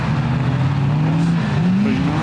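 A Ford KA rallycross car with a 2.3 litre engine pulls away at Blyton Park Circuit, its engine droning loud and steady, then rising in pitch as it accelerates.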